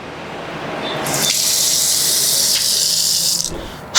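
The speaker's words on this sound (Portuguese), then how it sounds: "vai voltar a cair água aqui, ó" Water gushes from an apartment tap after the main valve is opened, starting abruptly as a loud steady hissing stream that runs for a couple of seconds with a brief dip before stopping near the end.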